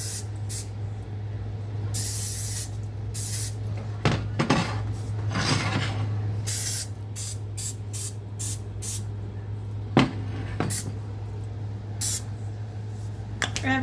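Cooking spray greasing a baking pan for banana loaf, several short hissing bursts close up, mixed with clinks and taps of the metal pan, over a steady low hum.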